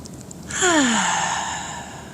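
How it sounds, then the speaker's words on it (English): One long, slow, deep breath during tai chi, a close airy exhale swelling and then fading over about two seconds. "Long, slow, deep breathing."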